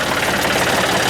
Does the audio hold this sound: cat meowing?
no